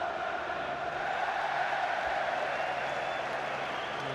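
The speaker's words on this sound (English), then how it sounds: "Craig Bellamy's just acknowledged the Cardiff fans giving him a cheer down there with a wave" Cardiff fans in a stadium crowd at a League Cup Final, a steady, distant roar of cheering and applause that keeps on without a break.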